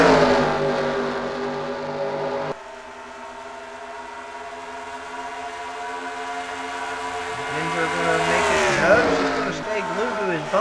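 Race cars at an SSSR Atlanta heat race roar past with loud revving engines, drop briefly in level, then surge again with rising and falling pitch as cars draft and pass; commentary runs over the engine noise.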